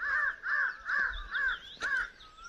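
Crows caw outdoors on a morning walk, five harsh evenly spaced calls at a steady rhythm, moderately near and clear, with a faint sharp click in the middle and quiet background.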